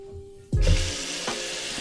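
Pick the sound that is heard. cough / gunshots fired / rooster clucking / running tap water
running tap water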